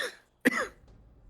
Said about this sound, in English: he says I coughed then